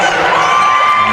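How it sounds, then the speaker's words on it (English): Rollins College basketball fans, traveling supporters at a road game against Tampa, cheer and shout in a steady, boisterous roar that fills the arena for a brief moment. "And the Rollins fans who have made the trip are very excited and boisterous"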